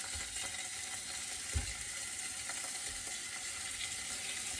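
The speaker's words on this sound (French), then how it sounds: "Et ils vont griller tranquillement" Pork rillons sizzle steadily in beef fat in a frying pan, a continuous close crackle with occasional louder pops and no talking.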